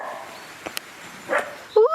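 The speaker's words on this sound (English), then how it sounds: "Every time I talk it sets the dogs off." Dogs barking on a countryside walk near Porlock Weir, a few short yips and barks ringing out at moderate distance, the last one louder and closer, with a person talking around them.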